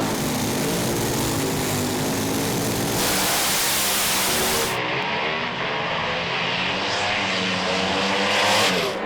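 A dragster on a drag strip blasts down the track at full throttle, a loud, continuous roar that suddenly narrows and fades as the car streaks away, with no talk.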